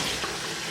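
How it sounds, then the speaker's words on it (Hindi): A little water is poured into roasted, crushed cumin and spices for a restaurant-style tikka karahi, giving a brief, steady, soft splash and hiss up close. "इसमें ऐड करेंगे बिल्कुल थोड़ा सा पानी"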